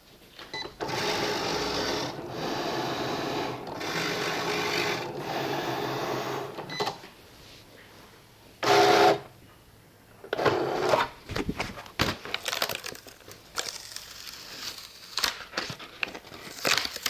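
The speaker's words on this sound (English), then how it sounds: "now we're going to go ahead and print the second page and repeat the process" Printer feeding and printing a page onto cardstock for a layered 3D Cricut card, with long mechanical whirring passes broken by pauses, then shorter clicks, rattles and bursts of rolling as the sheet moves through.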